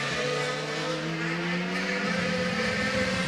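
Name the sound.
Paul di Resta's DTM race car at Brands Hatch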